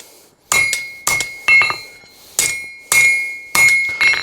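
A large hammer forging an old steel file into a pirate sabre on an anvil; seven or so bright, ringing metallic strikes at an irregular pace, loud and close, with no talk.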